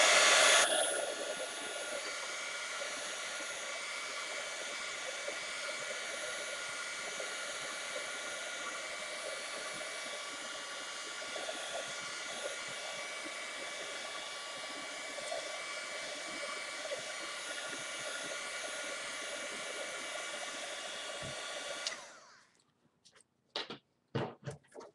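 A hair dryer blows steadily to dry glue or paint on a craft tag, a close, even whooshing hum that runs for over twenty seconds before cutting off, followed by a few handling knocks.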